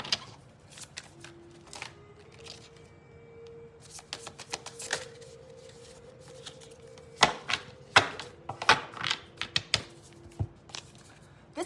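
Tarot cards shuffled by hand before a final draw, the riffles and taps coming in irregular bursts that grow denser and louder toward the end, close and alone without talk.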